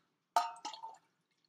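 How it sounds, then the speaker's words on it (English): Water is poured briefly into a blue cup: a quiet splash followed by a couple of short trickling gurgles, all over in well under a second, with silence around it. "So I'm going to pour water into my"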